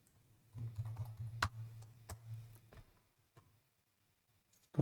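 Rapid clicking of a computer mouse at a desk, a run of close, sharp taps over about two seconds, then a few sparse clicks with quiet pauses between.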